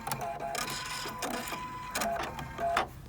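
Close mechanical whirring and clicking comes from the automatic needle threader on a Viking Epic 2 sewing machine, with several short motor bursts and ticks over about three seconds.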